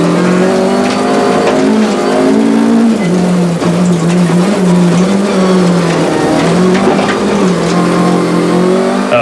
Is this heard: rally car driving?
yes